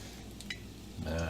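Chicken tenders fry in olive oil in a pan, giving a low, close sizzle that swells louder near the end, with a couple of faint clinks of utensils against the pan.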